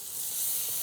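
Onions frying in a pan, a steady bright sizzle hissing continuously at moderate loudness with no voices over it.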